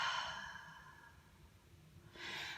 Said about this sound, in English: take a deep breath in, and take a deep breath out